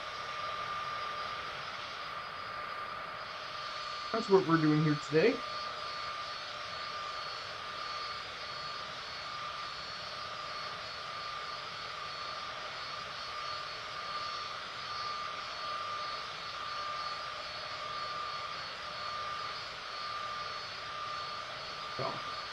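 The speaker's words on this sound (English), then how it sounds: "We're flying the Citation business jet." A Citation business jet idles in a flight simulator, a steady whining engine drone with a faint high tone running throughout, broken early by a couple of brief clunks, while a voice briefly speaks.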